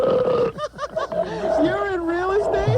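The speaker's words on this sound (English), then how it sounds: "I'm just belching" A person belches, a long drawn-out vocal burp with a wavering, grunting pitch, close and loud.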